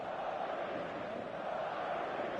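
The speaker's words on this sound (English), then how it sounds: "An intimidating atmosphere in the crowd, a crowd so close to the pitch here in this old-style stadium, the Gewiss" Stadium crowd in a football video game, a dense, steady roar of many voices filling the background at moderate level without distinct cheers.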